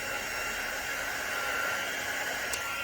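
A hair dryer blows steadily at close range over alcohol ink drops on coasters, a continuous broadband whoosh that holds even for the whole stretch.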